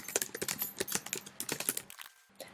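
Typing text on a computer keyboard while editing a Google Sites page: a rapid, steady run of close key clicks that stops briefly near the end before a few more taps.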